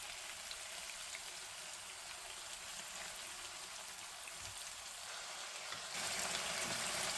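Lamb kofta patties frying in a pan over medium heat, a steady even crackling sizzle throughout, growing slightly louder near the end.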